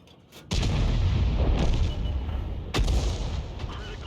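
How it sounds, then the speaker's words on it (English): A leFH18B2 artillery gun in a video game fires with a sharp, heavy boom followed by a long rumbling roar, then a second loud shot a couple of seconds later, both close and powerful. "He fired there and the shell landed fairly close to that enemy PP."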